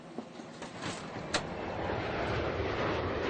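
A full EasyJet passenger jet takes off, its engines building into a broad, steady roar that swells louder and denser over a few seconds, heard from inside or nearby without voices.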